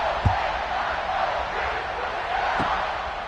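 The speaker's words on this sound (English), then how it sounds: "And this crowd is feeling themselves after that last drive." Football stadium crowd roaring before a kickoff, a broad, steady wash of cheering and shouting that fills the whole span, with a couple of brief thuds near the start and toward the end.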